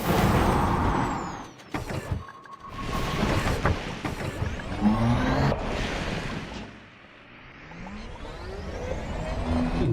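A rover's brake engaging in the space game Elite Dangerous: Odyssey during planetary exploration: a loud mechanical hiss and clunk amid continuous vehicle rumble and whine, with shifting tones and no talk.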